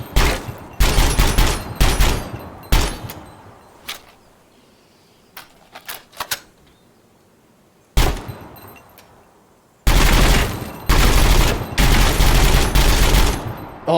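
Guns firing in Gunsmith Simulator: bursts of loud, close shots in rapid clusters, a quieter stretch of scattered single shots and clicks, then a long sustained volley of automatic fire at the end.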